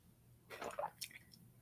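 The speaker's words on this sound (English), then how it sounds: "let me take a sip of my fruit water" A single quiet, wet slurping sip of fruit water, brief and close up, with no speech over it.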